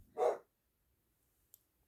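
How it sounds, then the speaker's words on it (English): A small female puppy gives a single short, sharp yap close by, followed by silence and a faint click. "Now I got to go take care of that puppy dog. She's a yapping, as you can tell."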